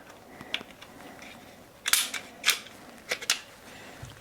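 A Glock 17 pistol slide being pulled off the frame, a series of crisp metallic clicks and snaps, a couple of faint early clicks, then a sharper cluster of close, distinct clacks.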